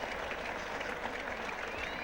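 A big crowd at Trent Bridge for an England v Australia Test match in 1977, on its feet applauding a spectacular slip catch, dense sustained clapping and cheering heard from within the stands.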